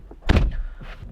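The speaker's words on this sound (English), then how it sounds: "When I shut the door" The large door of a 2021 BMW M440i xDrive coupe swings shut with one close, solid thunk, followed by a faint settling rattle.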